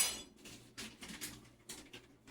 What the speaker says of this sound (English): Drain it. And I put it in a bowl